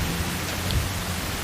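Steady rain falls without a break, a dense broadband hiss with no voices over it; one or two faint low rumbles might be distant thunder.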